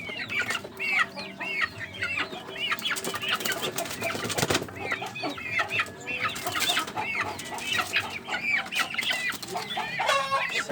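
A sick chicken with a cold clucks and wheezes in a steady stream of short, close calls, with other fowl faintly around it and no one speaking.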